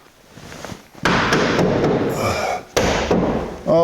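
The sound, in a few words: 1982 Jeep CJ7 door being closed into its latch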